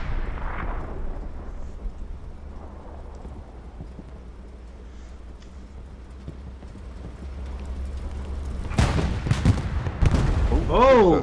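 Tank cannons fire in a tank-only tournament video game, a scattering of distant thuds giving way to several loud, closer booms near the end, with a voice talking over the action.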